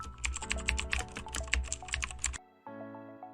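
Rapid clatter of typing on a computer keyboard while renaming a web page in Elementor, a dense burst of close keystrokes that stops abruptly, followed by a faint electronic tone.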